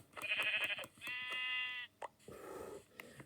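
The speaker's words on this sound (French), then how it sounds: "Déjà, il y a 2 moutons." Several sheep bleats from Minecraft, one loud sustained cry with a few shorter bleats around it, fairly close, with no talk over them.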